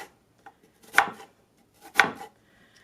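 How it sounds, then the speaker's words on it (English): Carrots being cut with a crinkle cutter on a board, giving three sharp chopping strikes about a second apart, close and clear with quiet gaps between them. "we're going to cut up these carrots"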